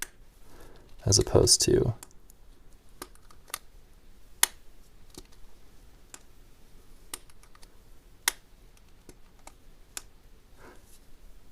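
A Lamy AL-Star fountain pen cap snaps shut with crisp, close clicks, one cluster of rattling clicks followed by scattered single ticks while a person talks.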